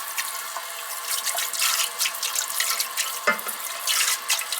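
Running sink tap pours steadily while a dirty dish is washed under it, with a continuous bright water hiss, small splashes and a brief clatter near the middle.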